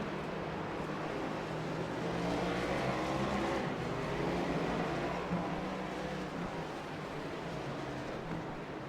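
Race cars lapping a road course at Sonoma in a BRR Cup race, a steady dense engine roar that swells slightly mid-way and holds loud throughout, several cars blending together.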